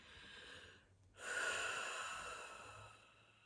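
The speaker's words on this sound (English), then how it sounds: "would you like to just close your eyes with me and take a deep breath?" A single deep breath drawn in slowly and let out, close and quiet, with a short pause before a long audible exhale.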